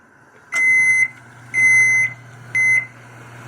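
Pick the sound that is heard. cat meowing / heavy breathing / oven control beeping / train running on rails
oven control beeping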